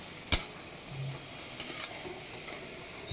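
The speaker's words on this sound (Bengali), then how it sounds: "এবারে লুচিগুলোকে ভেজে নিচ্ছি" Luchi puffed flatbreads frying in a small amount of hot oil, giving a soft steady sizzle with a few sharp spatters and clinks near the start and middle, close by.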